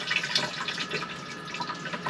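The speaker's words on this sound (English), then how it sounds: "We're going to press the button to flush it. Oh my goodness, it's like a real flush." A Hymer motorhome toilet flushes after a fresh water pump upgrade, with a quiet, steady hiss of rushing water and light splashing close by.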